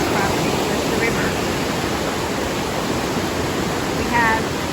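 A river on a mountain homestead rushes in a steady, broad wash of water noise that stays constant and fairly loud throughout.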